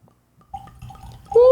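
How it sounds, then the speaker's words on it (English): A sparkling beverage gurgles as it is poured, with short wet glugs building to a louder rising gurgle at the end. It is near and fairly loud, with no speech. "It had a gurgle."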